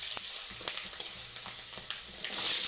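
Cumin, asafoetida and turmeric sizzle in hot oil for a village-style Kathiyawadi chibhda curry, a steady close crackle with a few sharp pops and a louder hiss surging at the end.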